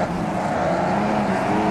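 Race car engine heard from outside in the sim racing game Automobilista 2, a steady droning roar with a sustained low hum, loud and unbroken for a brief moment.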